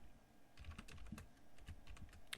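Keys clacking on a computer keyboard as an rm command with a wildcard asterisk is entered on a CentOS system, a run of close, irregular keystrokes ending in a sharper tap like the Enter key.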